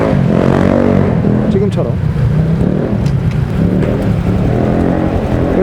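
Delivery motorcycle engines droning loud and steady under continuous talk, with a rough rumbling roar that never lets up.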